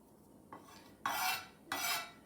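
A knife chops parsley roughly on a board, with a soft first stroke followed by two louder, separate chopping hits in a quiet kitchen.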